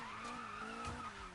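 Tires skid and squeal in a sustained drift as a car slides through a turn in Need for Speed (2015), with engine tone droning beneath a steady, fairly loud screech.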